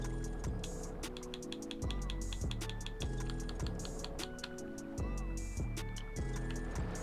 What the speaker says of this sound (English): Intense clicking, what with the D-pad? The D-pad is pretty loud, isn't it?